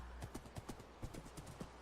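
Horse hooves clip-clop steadily in a video game, a regular run of moderately close hoofbeats over a low, constant background hum, with no talking.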